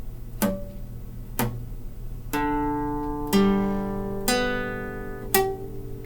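A guitar chord strummed several times with the fingers not pressed fully onto the frets, the first strikes short and muted, later ones ringing but with a dull, buzzy clang.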